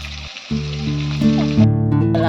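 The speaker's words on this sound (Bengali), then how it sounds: "মাছ ভাজা হয়ে গেছে" Fish frying in a pan makes a loud, close, continuous sizzle with steady hissing oil, alone with no voices.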